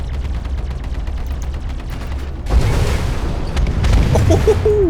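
Missiles launching and exploding in Star Citizen space combat: a steady low engine rumble gives way to a louder, dense burst of blasts and crackling impacts over the last half.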